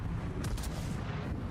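A warship turret fires in World of Warships: a short, loud naval gun shot over constant low battle rumble, the blast bursting out near the middle of the clip.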